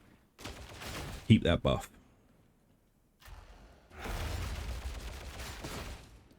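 Gunfire from a Veteran's weapon in Warhammer 40K: Darktide, with a tight cluster of loud sharp shots near the start, then a longer stretch of rumbling sustained fire later on, while a voice speaks briefly.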